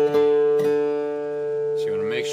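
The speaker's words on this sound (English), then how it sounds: "and then this tone, which is a D, should match the next string" A guitar string fretted at the fifth fret sounding a D, compared by ear with the open D string: two plucked tones ringing clearly and sustaining, followed by a short scraping noise.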